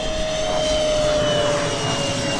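A Durafly D.H.100 Vampire V2 70mm EDF model jet rolls overhead, its ducted fan giving a steady, loud whooshing whine that holds constant throughout.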